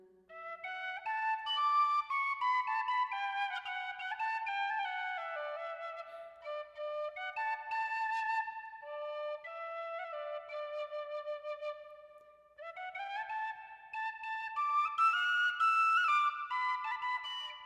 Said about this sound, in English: I was just doing the most metal thing I know, which is playing the tin whistle